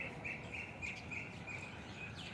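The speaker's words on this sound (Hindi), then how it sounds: "पक्षियों की मधुर आवाज़" Birds chirp and sing softly in a cool morning outdoors, a steady run of repeated high tweets over a quiet, airy background, fairly distant and with no talking.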